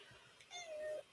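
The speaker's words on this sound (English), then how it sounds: "I hear her. Mm-hmm. My needy cat." A pet cat gives a single drawn-out meow that rises and holds before cutting off, close and moderately loud against a quiet room.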